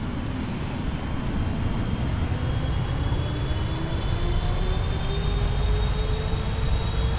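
Steady, loud roar of PMDG Boeing 777 jet engines spooling up to takeoff thrust in a flight simulator, a continuous broadband rumble with rising whining tones, no talking.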